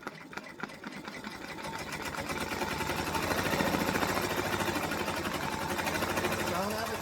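An embroidery machine stitching a personalized pet gift runs with a rapid, even mechanical chatter that builds in loudness after the first couple of seconds and continues steadily, close by.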